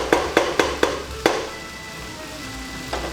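Caramelized onions in a pan for French onion soup sizzle as a spoon scrapes and stirs, with five quick knocks early on, then a quieter steady frying hiss.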